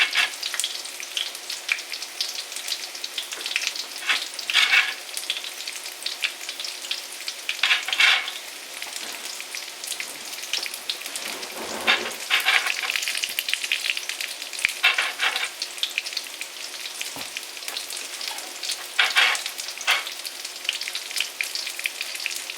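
Chicken patties fry steadily in a pan over medium heat, a continuous close sizzle with crackling bursts and brief louder spits recurring throughout, no voices.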